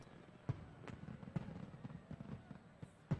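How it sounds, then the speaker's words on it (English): Fireworks in the video game Radiata Stories, a run of repeated booming bursts spaced irregularly over steady background crackle, moderately loud, with no talking. "I'll just keep repeating these fireworks over and over again."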